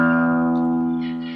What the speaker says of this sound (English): Because the low E string sounds like this,